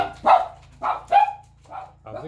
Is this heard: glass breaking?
no